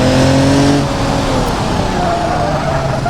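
A Land Rover Defender engine drones loudly in the BeamNG driving game as it pushes over off-road terrain, a steady revving tone with shifting pitch that stays prominent throughout, with no speech over it.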